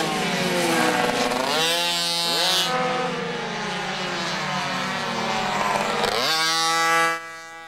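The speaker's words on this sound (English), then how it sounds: "Adam takes his second bike out for the final practice." Racing motorcycle heading out on track for final practice, engine revving up and down through gear changes with rising and falling pitch, loud and close, then cutting off near the end.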